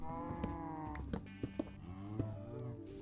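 Cattle in Minecraft mooing repeatedly, several drawn-out low harmonic moos overlapping one another, close and clear, punctuated by small thumps and clicks from game movement, with no talk.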